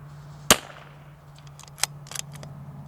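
A single sharp rifle shot rings out at an outdoor range, fired at a target 150 yards away, followed by faint distant clicks and ticks as the echo fades.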